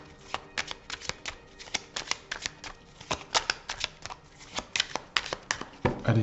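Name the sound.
shuffling tarot cards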